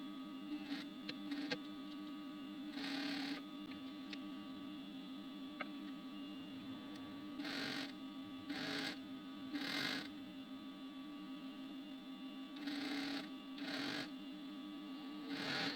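A sewing machine stitches the main seams of a t-shirt dress at the shoulders, sides and pockets, its quiet rapid whirring interrupted by short louder bursts of running, with faint clicks in between.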